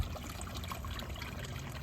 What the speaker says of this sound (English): So we water from the bottom